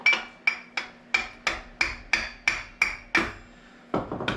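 A hammer strikes a part into an ONYX bike pedal with about ten sharp metallic blows at a steady rhythm, each ringing briefly, followed by a quick rattle of lighter taps at the end.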